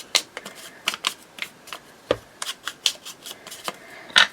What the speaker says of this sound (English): let's just rip that little bit off